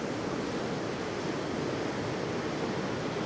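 Sea waves surge into a rocky inlet at Godrevy and break against the rocks, a continuous broad roar of churning surf with no pauses and no voices.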